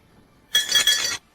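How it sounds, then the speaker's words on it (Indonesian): A drinking glass shatters in a lively indoor gathering, a single bright crash with tinkling shards lasting under a second, loud and close. "Pecah, pecah. Gelasnya pecah."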